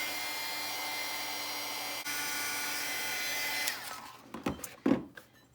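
A hair dryer blows steadily on a freshly painted watercolor page of a small pocket journal, a constant rushing whoosh that holds for nearly four seconds before cutting off, leaving a few soft handling knocks and rustles.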